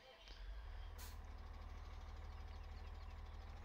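A farm tractor engine runs in a field while planting corn, a steady low drone that holds throughout at an even level, with a brief hiss near the start.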